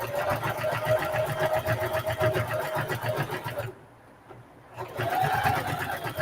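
Sewing machine fitted with a walking foot stitches through thick fabric for a patchwork duffle pocket, a fast steady mechanical whir that pauses briefly partway, then resumes loud and close.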